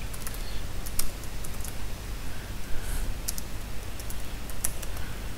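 Someone types code on a computer keyboard in quick, uneven bursts of crisp key clicks, close by, over a steady low background hum.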